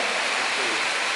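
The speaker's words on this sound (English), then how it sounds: "It's raining" Steady rain falling outdoors in the morning, a dense continuous hiss of drops that stays even and fairly close for the whole moment, with no other sound standing out.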